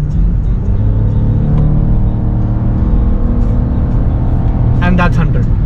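A Lexus RX450h accelerating hard from 60 to 100 gives a loud, steady in-cabin engine and road drone with a rising tonal whine, plus a brief clatter near the end.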